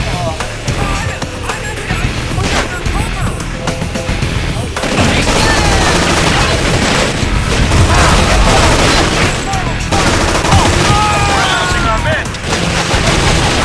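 Heavy video-game gunfire and booming explosions keep up a loud, nearly continuous barrage, with brief lulls. A voice talks intermittently underneath.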